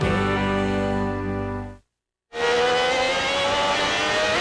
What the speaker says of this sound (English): live on board with Jean Alesi in the Ferrari